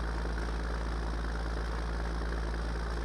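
A tractor engine in a farming video game drones steadily while pulling a baler that picks up soybean straw, a constant low, even hum with no changes in pace or load.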